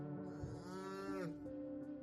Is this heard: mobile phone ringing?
no